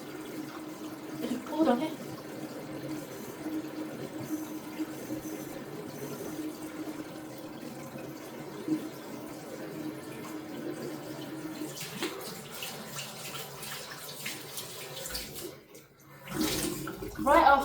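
Shower water runs steadily during a face wash after cleanser, a continuous moderate splashing stream with a brief break near the end, while a voice speaks briefly over it.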